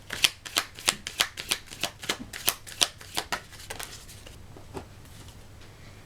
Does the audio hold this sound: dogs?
no